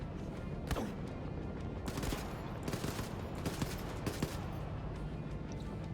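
Gunfire erupts in Wolfenstein II: The New Colossus as a series of loud, sharp bursts, several rapid shots clustered at irregular intervals over a continuous background rumble.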